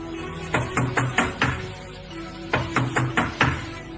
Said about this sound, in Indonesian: Mungkin dia tidak mendengar kita mengetuk pintu.